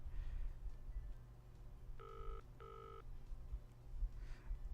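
A phone number dialed in the video game Deepspace Emporium, two clear touch-tone beeps in quick succession over a low background hum, with no voices.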